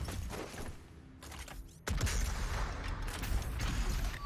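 A switch mechanism is shot in the video game Doom Eternal: a clattering mechanical creak and ratchet-like grinding, which jumps sharply louder partway through and carries on as a dense mechanism rumble.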